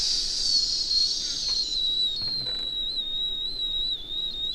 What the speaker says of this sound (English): I just whistled into everybody's ear